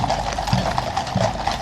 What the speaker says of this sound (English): What I love is these horses, they're magnificent, cavalry blacks.